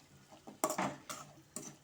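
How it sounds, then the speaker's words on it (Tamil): A spoon stirring jackfruit seed masala in a pan gives a few soft scraping and clinking strokes, close and quiet, in irregular bursts with a faint sizzle beneath. "நல்லா நம்ம கிளறிக்கலாம்."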